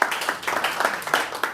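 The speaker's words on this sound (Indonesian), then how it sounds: "Berikan sorak-sorai buat Tuhan Yesus." A church congregation clapping and cheering for Jesus, with quick, dense, loud applause and mixed voices filling the room for the whole moment.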